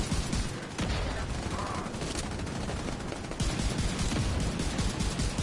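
Dense video game gunfire, rapid bursts and overlapping shots that form a loud, continuous barrage with brief dips between volleys.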